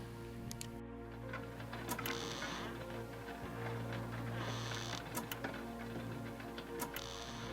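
A clock ticking as a sound effect in an indie video game, steady regular ticks running under a looping musical backdrop.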